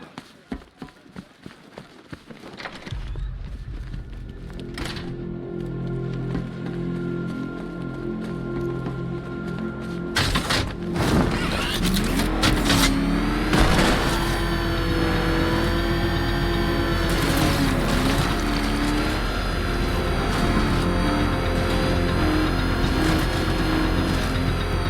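A car driving in Batman Arkham Knight: a steady, loud engine drone rising as it accelerates, with rumbling road noise and rain, and voices talking over it.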